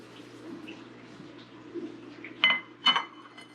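Ceramic bowl and dishes clink sharply twice in a kitchen while a bigger bowl is fetched for a California poppy tincture, two close bright knocks rising over quiet room hum and faint shuffling.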